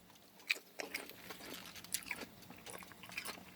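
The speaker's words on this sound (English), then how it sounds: "And I basically just chew the lettuce while I'm eating the food" Moist crunching bites of lettuce chewed close up alongside a mouthful of microwaved pork fried rice, with several sharp crisp snaps early on and steady wet chewing throughout, no talking.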